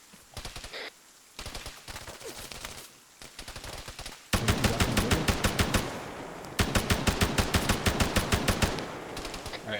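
Rapid bursts of automatic gunfire from the Arma 3 video game during a building breach, loud and close, with long sustained volleys of evenly spaced shots and a few quieter scattered shots early on.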